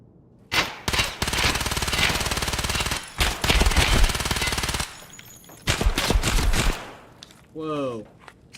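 Loud rapid automatic gunfire in the video game Escape From Tarkov, several long sustained bursts separated by brief pauses, ending in quiet with a voice speaking afterward.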